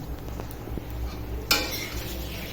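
Quiet clinks of a utensil against a pot as biryani is stirred and cooked, with one sharper metallic scrape midway and a faint sizzle behind it.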